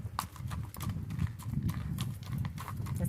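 Hoofbeats of a palomino Kentucky Mountain gaited horse at a walk, steady close clip-clop footfalls in an even rhythm, continuous throughout with no talking.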